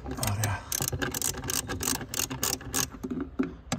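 A 10mm ratchet wrench undoes the small nuts on the ESP sensor of a Mercedes W203, producing a quick run of close, crisp clicking pawl ticks in uneven bursts.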